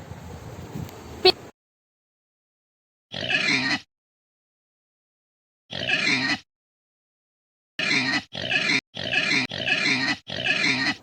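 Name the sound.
pig oinking and grunting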